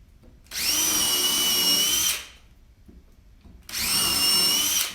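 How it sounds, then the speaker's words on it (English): A power drill pre-drills holes in wood blocks for DIY shelving supports, running in two loud, steady whines of about a second and a half each, separated by a short quiet pause. "So 2 little drills."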